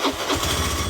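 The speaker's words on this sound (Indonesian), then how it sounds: "kita coba nyalakan unit kendaraan" A Honda Beat FI scooter engine cranking and catching into a low, steady idle, close and brief.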